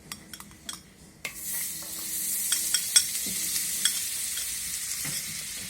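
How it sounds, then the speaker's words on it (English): White butter melts in a heated kadai on a cooking range, first quiet with a few clinks, then breaking into a steady hissing sizzle with sharp crackles and spatters, close up and without talk. "The butter is getting melted."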